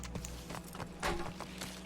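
A horse galloping in Red Dead Online, quick rhythmic hoofbeats thudding under a low steady rumble of movement, moderately loud and continuous throughout.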